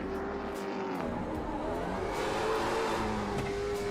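Late model stock car doing a burnout at a Miami racetrack, its engine held at high, steady revs with a rough, roaring drone that swells slightly toward the end, loud and continuous.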